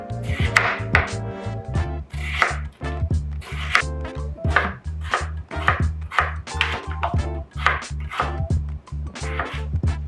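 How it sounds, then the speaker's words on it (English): A knife chops daikon radish into planks on a cutting board, a steady run of crisp, close knocks in quick rhythm across the whole stretch, no talking. "Same with the daikon, we're just gonna take it into planks."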